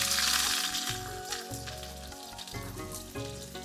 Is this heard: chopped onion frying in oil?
yes